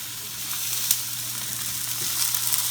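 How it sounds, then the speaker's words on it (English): Salmon fillet sears skin side up in a lightly oiled cast iron skillet, giving a steady, close broadband sizzle with faint crackles and pops throughout and no talking. "So we're going to sear that for about a minute."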